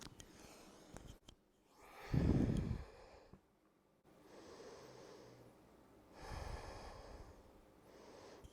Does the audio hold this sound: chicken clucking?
no